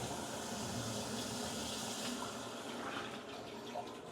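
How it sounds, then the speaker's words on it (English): An electronic heated toilet in a luxury condo bathroom flushes with a steady, loud rush of water that runs continuously throughout, with no talking. "So I can hit flush."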